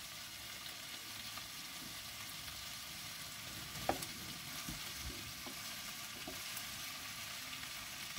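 Sausages and bacon lardons browning in a pan for rougail, giving a steady, close, low-level sizzle and crackle throughout with an occasional sharper pop or utensil tap, and no voices.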